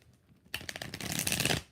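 Tarot cards being shuffled, a quiet pause then a sudden burst of dense riffling flutter lasting about a second before stopping, close and clear with no voices.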